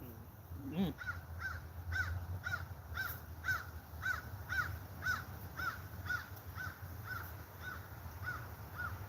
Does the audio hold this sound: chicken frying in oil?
no